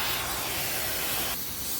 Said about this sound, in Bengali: তো দেখতেছেন বোল্টগুলো কাটতেছি।